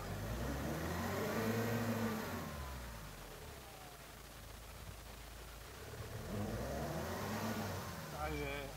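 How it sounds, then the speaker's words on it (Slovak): A SsangYong Korando or Suzuki Vitara pulls away uphill in first gear with four-wheel drive switched off, its mid-pitched engine revving up, easing, then rising again, loud and close with someone talking over it. "Takže vypínam štvortovku, zaradzujem jednotku a idem."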